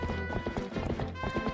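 Horse hooves clip-clop in quick galloping rhythm in the video game Zelda: Twilight Princess, close and steady over a soft musical background.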